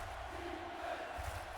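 A distant football stadium crowd in a video game murmurs and swells in a steady roar, faint and continuous with no single standout shout.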